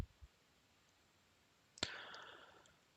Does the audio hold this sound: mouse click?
yes